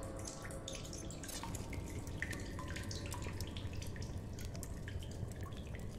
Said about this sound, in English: Load up on water